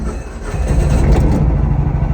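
A Mahindra Alfa Plus CNG three-wheeler with a 395 cc engine cranks and starts, settling into a loud, close mechanical rumble that swells briefly before steadying into an idle.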